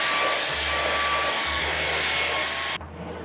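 Vacuum cleaner running indoors, a loud steady broadband roar with a low motor hum that shifts slightly in pitch, then cuts to a quieter drone near the end.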